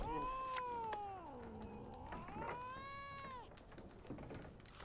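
Cat in The Witcher 3 video game giving a long, rising and falling meow, then a second drawn-out one, clear and fairly near over faint ambient game sound.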